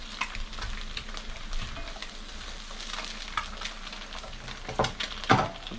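Eggs frying in a Cainfy $35 Hexclad-copy hybrid pan give off a steady, close sizzle and crackle, with a couple of sharper spatula scrapes near the end.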